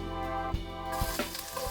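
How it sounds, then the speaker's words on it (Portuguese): Butter added to a hot pan after crisped prosciutto sizzles briefly, with a soft hiss, a few light knocks from the pan and the sizzle rising near the end. "Então a gente vai adicionar mais uma parte da manteiga."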